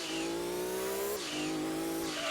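Race car in Gran Turismo 2 under emergency braking, a loud continuous high engine whine that drops in pitch and then climbs again, with tire squeal layered over it.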